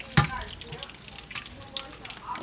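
Salted fish (makayabu) fries in hot oil, a soft continuous sizzle and crackle with a brief sharp pop near the start, heard close and fairly quiet.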